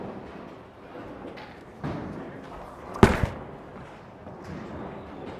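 A Storm Phaze V symmetrical pearl bowling ball strikes the pins with one sharp crash, leaving a 4-pin standing. The impact is a single loud burst over a steady background of alley murmur, with a short rattle of falling pins after it.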